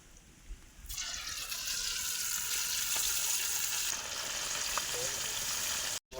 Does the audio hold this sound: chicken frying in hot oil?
yes